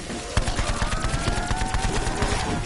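Rapid bursts of gunfire from a PS4 shooter game, with a loud shot kicking off a near-continuous stream of close, punchy reports and clattering impacts for the whole stretch.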